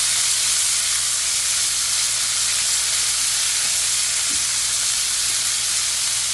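Duck breasts searing in butter in a hot pan, a loud, continuous close-up sizzle and hiss that holds steady throughout, with a low hum underneath and no voices.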